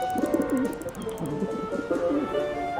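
A pigeon in the game Syberia The World Before coos in low, rolling phrases that repeat steadily throughout, close and clear over faint ambient background.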